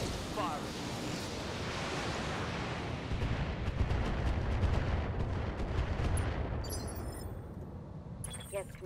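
Weapons firing in the mech combat video game Battletech, a dense, continuous rumble of booming shots and explosions throughout, with brief electronic blips near the end.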